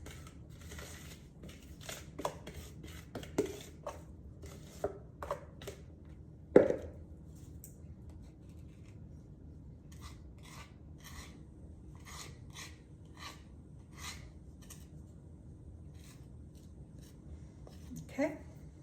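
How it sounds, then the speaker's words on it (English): A spoon scrapes and smooths thick cinnamon roll blondie batter across a lightly greased pan, giving soft, irregular rasping strokes and occasional sharper taps against the pan, fairly quiet and close up. "let's get this batter in here and smooth it out"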